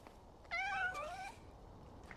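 A cat gives a single squeaky meow, short and rising, close against faint background noise.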